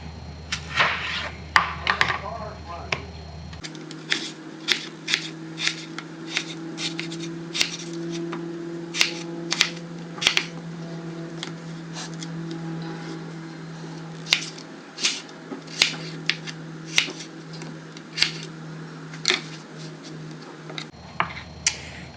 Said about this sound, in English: we're gonna cut the potatoes